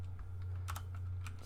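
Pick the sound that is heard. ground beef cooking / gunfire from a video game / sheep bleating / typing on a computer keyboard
typing on a computer keyboard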